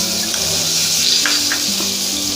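Melted butter sizzles steadily on a roti cooking on a hot griddle, a close, continuous frying hiss with faint crackles and a low hum underneath.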